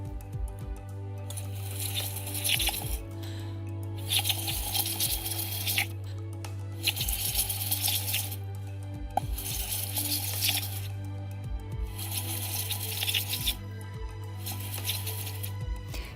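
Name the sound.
blowing into water dyed blue with bromothymol indicator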